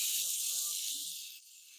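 Diced onion sizzles in hot avocado oil in a pan, a loud, steady hiss that fades slightly toward the end, with a voice talking beneath it.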